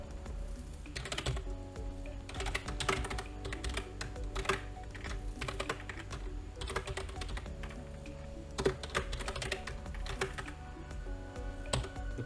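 Steady typing on a computer keyboard while entering code, with quick irregular clicks and occasional louder key strikes continuing throughout, close and moderately quiet, no voices.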